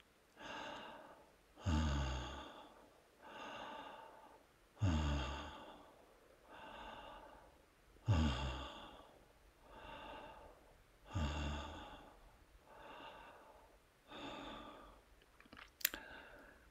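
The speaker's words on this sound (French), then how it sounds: "Et vous prenez une dizaine de ces respirations" Slow, deep breaths taken during meditation, each long inhale and exhale rising and fading in a steady, unhurried rhythm about every three seconds, close and soft, with nobody speaking.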